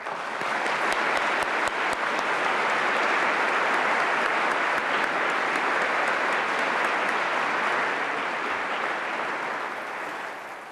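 Sustained applause from a lecture audience welcoming physicist Professor Frank Wilczek at an MIT Nobel laureate talk, a dense, steady clapping that holds loud for about ten seconds and then begins to fade.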